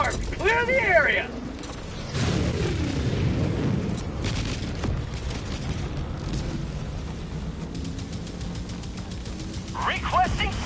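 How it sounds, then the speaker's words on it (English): Hellbomb detonation in the game Helldivers: a heavy deep boom with a long rumbling tail over several seconds, mixed with mechanical clanks and creaks, while a voice speaks briefly at the start and end. "Hell bomb armed. Clear the area."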